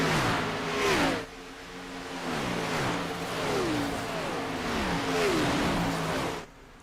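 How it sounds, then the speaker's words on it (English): Race cars roar past one after another on the Atlanta oval in iRacing, engine notes rising and falling as each pack sweeps by, loud and steady with brief gaps between passes. "Watching the cars fly on by there for just a moment"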